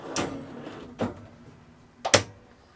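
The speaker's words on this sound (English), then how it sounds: "Slide out pantry is just next to it, so we'll open up that door and pull the pantry out" A slide-out pantry drawer in a 21-foot RP Family Cruzer family bunk caravan, heard as three short, sharp knocks and slides spaced about a second apart, close and clear over a quiet room.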